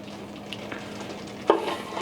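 A knife's flat back spreads dough over a surface in soft, close scraping strokes, with a sharper scrape near the end, set against steady kitchen background noise.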